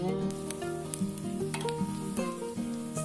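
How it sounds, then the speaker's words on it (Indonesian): Shallots and garlic sizzle and crackle steadily as they are stir-fried in hot oil in a pan, a constant close frying hiss with brief clicks from stirring, no voice present. "Bawang merah sama putih dulu kita oseng sampai harum"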